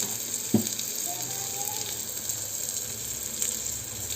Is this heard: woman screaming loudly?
no